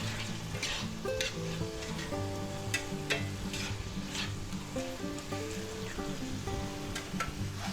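Rice wine hits a hot pan of pork lo mein stir-fry with vegetables, giving a loud, continuous sizzle and crackle, with spatula scrapes and clinks as the food is stirred.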